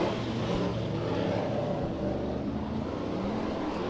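Pro stock race cars at Santa Maria Raceway during heat races, a loud continuous engine roar that holds steady and close throughout without any talk.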